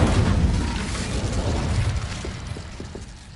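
An Incendio fire spell bursts in Hogwarts Legacy, a loud booming explosion with crackling flame that hits at once and then rumbles and fades over a few seconds, with scattered pops near the end.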